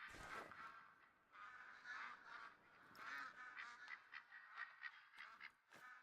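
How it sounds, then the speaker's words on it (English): Ducks honking and quacking overhead in the Farm Sim 25 video game, a steady run of repeated calls that rise and fall in bursts, moderately loud over a continuous hum. "I hear a duck. Are they flying overhead?"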